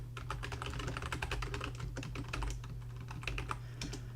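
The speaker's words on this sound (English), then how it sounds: "I cannot type and speak at the same time" Rapid, continuous keystrokes patter on a computer keyboard at close range, an even stream of light clicks over a low electrical hum with no voices.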